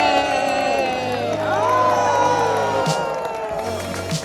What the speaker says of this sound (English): It was great to have a lot of people there who were cheering